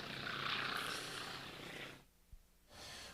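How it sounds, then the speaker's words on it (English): A Gee Bee racing airplane passes low along the runway at an antique airshow. Its engine rises into a loud, rushing roar, fades away briefly and then comes back in, with no voices over it. "Delmar Benjamin lowers the nose right down to the runway and again rolls the aircraft 1/2 to the inverted position"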